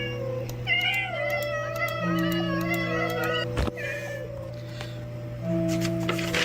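Cat meowing in the Minecraft video game, several short tonal meows in succession over a steady background drone, fairly close and clear with no talk over them.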